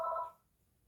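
A landline house phone gives the last moment of an electronic ring, a steady tone that fades quickly into silence.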